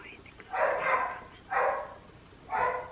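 A dog barks three times at a steady pace, each bark drawn out and moderately loud, in a quiet room with no talk.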